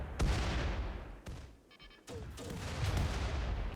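Artillery shells bombard mechanoids in the colony game Rimworld, heavy repeated booms and rumbling explosions in quick succession, with a brief electronic beeping tone during a lull.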